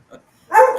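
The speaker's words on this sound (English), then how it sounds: "That's my one-eyed hound dog, and she's just standing here just barking at me." A one-eyed hound dog lets out a loud, close bark after a brief faint yelp, the single bark ringing on briefly indoors.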